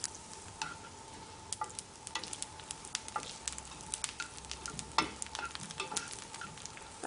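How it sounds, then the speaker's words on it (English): Pancetta bacon frying in oil, soft continuous sizzle broken by frequent sharp crackles and pops, close up and moderately quiet with no talking. "The bacon is looking so wonderful, and the smell, all the juices going into the oil"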